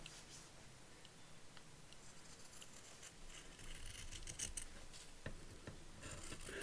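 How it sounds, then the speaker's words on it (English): Scissors snip through fabric selvage in a series of faint, close crisp cuts and rustles against a soft background hiss. "let's cut this selvage off first"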